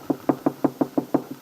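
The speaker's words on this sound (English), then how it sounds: "There is a gentle knock at the door." Eight soft, evenly spaced knocks on a wooden door, gentle and close, with quiet between each rap.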